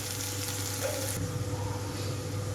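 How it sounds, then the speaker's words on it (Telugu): Medium-sized onion pieces fry in a pan for a cabbage, potato and green pea dish, giving a steady, close sizzle that stays even throughout with no talking. "రెండు నుంచి 3 నిమిషాల పాటు వేయించుకుంటున్నాను ఉల్లిపాయలన్నీ"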